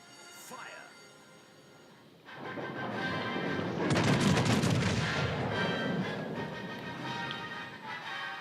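A warship's guns fire in a naval battle video game: after a quiet start, a heavy rumbling salvo breaks out and rolls on as a long, loud booming roar with crackling tails, while someone talks.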